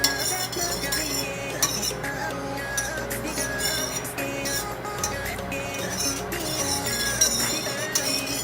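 Beef cubes being stirred into a thickening cooking mixture, with a steady clatter of utensil against pot that scrapes and clinks continuously at close range.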